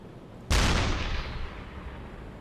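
Submarine deck gun firing in the UBOAT naval video game: a single loud, sharp boom that hits abruptly and then trails off into a long, rumbling decay.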